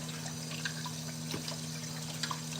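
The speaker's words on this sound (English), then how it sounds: "I put them back in the water and rewash them with a little bit of vinegar" Pork chops being rinsed in water with a little vinegar in a kitchen: faint trickling and dripping water with scattered small splashes over a steady low hum, no voices.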